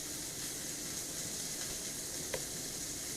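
Burger patty frying on a hot surface, a steady, even sizzle and hiss with one small pop, moderately quiet and without any voices over it.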